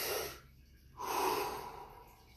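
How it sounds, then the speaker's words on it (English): A single big, deep breath drawn in then let out during Wim Hof breathing practice, an airy rushing inhale followed by a brief pause and a longer, fuller exhale, close and alone. "Taking a big deep breath."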